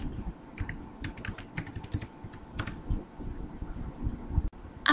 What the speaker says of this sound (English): we need to type the FDA tool in the command window